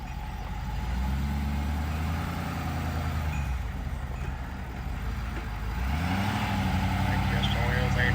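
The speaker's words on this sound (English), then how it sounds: "Both his wheels are just spinning now and he's starting to swerve." A 4-wheel drive truck in four-low, towing a stuck Airstream trailer, revs hard with its wheels spinning in mud, a steady loud engine roar that rises and falls; voices talk over it.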